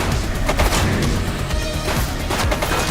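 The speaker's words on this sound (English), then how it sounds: "He's shooting." Rapid gunfire in a shooter video game crackles in dense, overlapping bursts, loud and continuous across the moment with no pauses.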